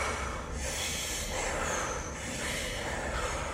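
A sick child breathing in and out through the nose, with close, breathy snorting inhalations and exhalations that swell and fade in a slow, steady rhythm against a noisy room background.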